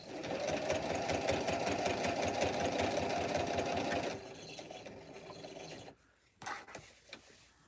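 A sewing machine runs steadily, stitching fabric for a ghost pillow, with a fast, even whir for about four seconds, then slower, lighter stitching, a pause, and a few brief bursts at the end.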